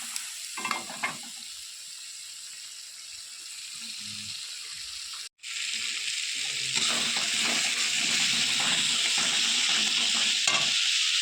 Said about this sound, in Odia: ବାଟଣରେ କଷା ଚାଲିଛି